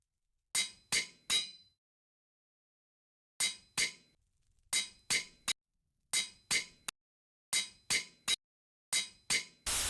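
Metal is worked on a bronze anvil in modded Minecraft TerraFirmaCraft, with sharp, bright clanging strikes landing in groups of two or three, set apart by silent pauses, loud and close.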